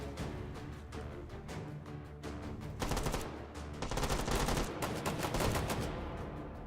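Rapid automatic fire from a machine gun loaded with AP incendiary rounds in the VR shooter H3VR, a dense unbroken stream of shots that grows louder and heavier partway through, with no talking.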